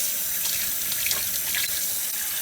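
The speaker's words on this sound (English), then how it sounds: "I wash my hands before I cook" Water streams steadily from a kitchen tap while hands are washed before cooking, a continuous close hiss and splash with small shifts as hands move under the flow.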